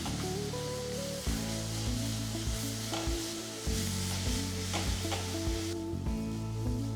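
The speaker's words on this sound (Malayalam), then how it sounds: "വീണ്ടും ഇത് നന്നായിട്ട് സോട്ട് ചെയ്യുക." Garlic, ginger and masala sauté in a pan for egg biryani: a steady sizzle with stirring scrapes runs throughout, alongside sustained tonal sounds.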